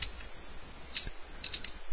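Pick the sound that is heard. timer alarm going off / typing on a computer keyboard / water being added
typing on a computer keyboard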